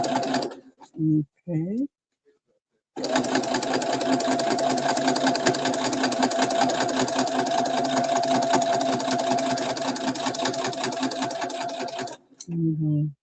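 A sewing machine stitches a zipper in one long, steady, close run lasting about nine seconds, with brief speech just before and after the stitching.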